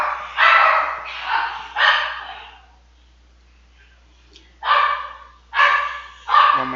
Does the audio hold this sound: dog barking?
yes